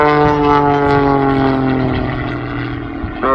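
A propeller-driven aerobatic airplane flies a rolling circle at the Parkes airshow, its steady engine drone loud and near with a sustained harmonic hum, the pitch shifting slightly and rising at the end.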